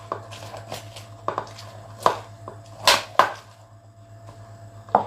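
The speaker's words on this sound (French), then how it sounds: "je vais prendre mon citron, je vais le couper" A knife cuts a lemon on a board for lemon madeleines, giving a few sharp, distinct chops and taps spaced irregularly over a low steady hum, close and clear with no talking.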